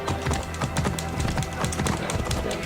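Horse hooves clip-clop in a quick, steady galloping rhythm in the video game Assassin's Creed Origins, loud and close, with faint game sounds underneath.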